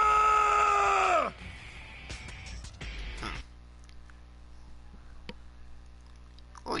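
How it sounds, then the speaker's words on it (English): A drawn-out, loud scream with a falling pitch rings out in the video game death end re;Quest, followed by scuffling effects and quiet background hum. "Did anyone hear that scream?"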